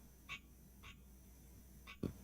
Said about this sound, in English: Can you hear the frog? He just came back.